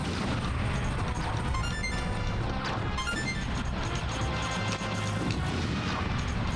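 Explosions in the Star Fox 64 video game, a dense stretch of booming blasts and crashing hits layered over the game's continuous loud music and effects, with no pause between them.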